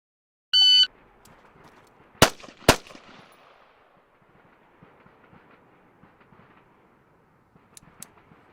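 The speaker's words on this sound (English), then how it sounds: "fire 2 rounds center of mass in 3 seconds" Two sharp M4 rifle shots fired in quick succession on an outdoor Army training range, loud and close, after a brief electronic beep, followed by quiet ambient background and faint distant shots.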